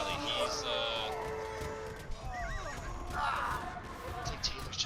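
Cavalry horses in a strategy video game whinny over busy battle sounds and clip-clopping hooves, with several short neighs scattered among the clatter while a voice commentates over it all.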